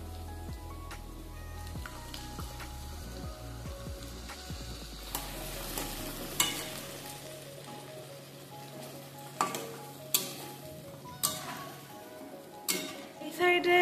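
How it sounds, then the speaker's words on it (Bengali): Onion and garlic fry in a pan with a close sizzle, stirred by a utensil that gives sharp scrapes and knocks. A low hum sounds beneath the first half. "এখন এখানে পেঁয়াজ আর রসুনটা ভেজে নিচ্ছি"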